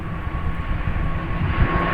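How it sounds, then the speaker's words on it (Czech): An airplane arriving overhead, a steady broad engine roar with low rumble holding level throughout, no voices. "Přilétá letadlo"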